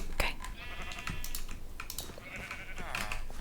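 Sheep bleat in Minecraft with a couple of wavering bleats, close and clear, mixed with soft computer keyboard clicks throughout.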